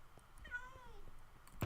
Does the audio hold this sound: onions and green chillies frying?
no